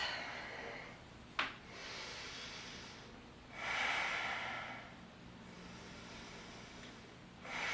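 Slow, deep breaths during a calm yoga flow: a long exhale, then another inhale and exhale several seconds apart, close and soft, with a brief sharp click near the start.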